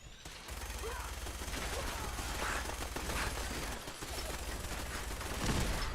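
Dense video game gunfire from a weapon fills the clip in a sustained loud barrage of rapid shots over continuous game noise, with no clear talking.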